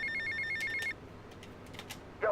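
An in-game telephone rings in Grand Theft Auto: Vice City, a short electronic trill that stops after about a second, followed by faint clicks and a brief tonal blip.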